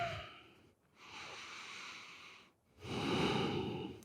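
A slow, breathy exhale during a yoga pose, heard as two soft drawn-out breaths, quiet and close, with a brief pause between them and no talking.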